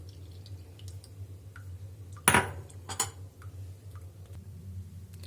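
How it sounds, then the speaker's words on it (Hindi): Metal utensils clink while a homemade cough remedy is strained, one sharp clatter in the middle followed by a second lighter clink, with a few soft ticks around them in a quiet kitchen. "तो चलिए दोस्तों, इसको मैं छान लेती हूँ"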